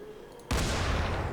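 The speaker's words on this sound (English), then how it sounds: "Bam! Explosion." An explosive barrel in the zombie game Dying Light blows up with a sudden loud blast after being shot, a sharp onset followed by a sustained roaring rumble, with quiet ambience beforehand.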